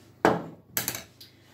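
A tray of cheese scones goes into an oven with a sharp metallic clank, followed by a few lighter rattling knocks as the tray settles, all close and brief.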